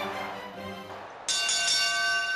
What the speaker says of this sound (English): There's the bell